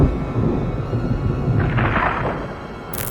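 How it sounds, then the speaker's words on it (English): Deep rolling rumble of thunder during a California thunderstorm, a steady heavy roar that persists throughout with a brighter crackle building midway, loud and enveloping, with no voices. "it's currently a thunderstorm out here in California"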